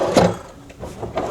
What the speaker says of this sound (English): I got the zero close drawers, the soft close